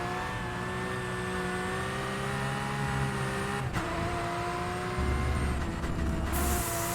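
A race car engine in the rFactor 2 racing sim revs steadily at high pitch, holding a sustained tone in fifth gear with a short dip partway through and a heavier rumble near the end.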